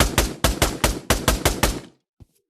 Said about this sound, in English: This is a really good pistol if you don't have anything else.